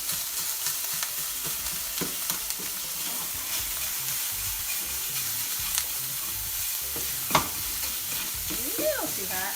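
Breakfast burrito filling fries in a hot pan with a steady, close sizzle, broken by scraping stir strokes and occasional sharper pops, with no talking.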